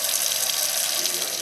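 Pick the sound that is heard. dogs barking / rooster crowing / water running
water running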